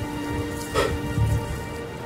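Heavy rain pours from Super Typhoon Carina in Tondo, Manila, as a steady wash of droplets with a brief louder surge near the middle and faint low rumbling underneath.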